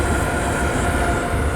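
A train rolls along a rail route in Train Sim 2014, a loud, steady rumble of wheels and carriage noise filling the whole stretch with no voices.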